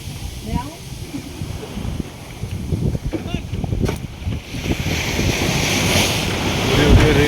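Boat ride on the sea off Goa during water activities, with waves slapping the hull, rushing wind buffeting the microphone and engine noise building toward the end, while people talk nearby.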